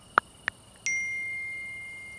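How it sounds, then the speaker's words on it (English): A phone notification chimes: two short, bright pings followed by a longer ringing tone that slowly fades, clear and close in a quiet setting. "Within minutes, his phone buzzed again."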